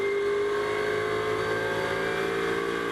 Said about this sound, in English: the Mercedes boom along Cooper Straight